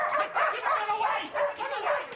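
A dog barks and yips in quick, uneven bursts close by, with whimpering tones between the barks.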